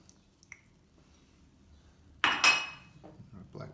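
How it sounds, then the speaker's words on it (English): Pizza rustica filling with parsley is stirred in a bowl: near silence, then a sudden close wet scrape and clink of utensil against the bowl, trailing into softer stirring noises. "Give that a good mix. Finish up with our parsley,"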